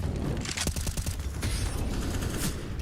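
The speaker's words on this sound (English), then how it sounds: "Couple of quick shots." A rapid flurry of gunshots in Counter-Strike on the Overpass map, several quick cracking reports in a row over busy game noise and clicking mechanisms.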